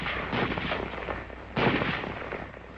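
M1 Garand rifle, caliber .30, firing: two sharp, loud reports about a second apart, each followed by a rumbling decay, with no voices.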